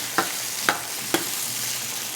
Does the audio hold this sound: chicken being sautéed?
yes